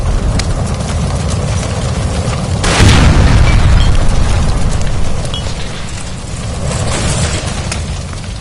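In the video game L.A. Noire, a gas line explodes with a heavy boom that swells into a sustained, roaring rumble. The blast dominates a dense, noisy scene with no clear talk.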